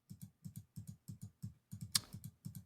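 Rapid clicking from a keyboard or button near a microphone runs in a steady rhythm of paired taps, about two dozen clicks in quick succession, close and fairly loud, with no talking.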